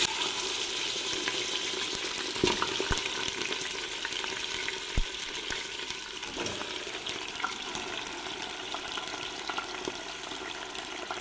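Oil and ghee melting and frying in a pan for a shakshouka in a home kitchen, a steady loud sizzle with occasional stirring clatters, close and continuous with no talk.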